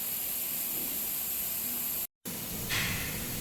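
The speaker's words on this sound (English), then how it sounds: "let me continue blowing this thing down with compressed air" Compressed air hisses loudly and steadily over a pulled Chevrolet Impala engine, cutting out briefly before resuming as a close, broadband blast.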